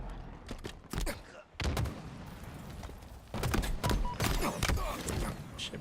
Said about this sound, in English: He shoots me instead of the guy directly in front of him.